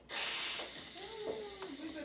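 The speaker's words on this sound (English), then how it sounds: "let's go ahead and release the pressure off our eggs here" Steam hisses steadily from a pressure cooker being vented after cooking eggs, a broad continuous rush close by with faint tonal whistling and a little background talk.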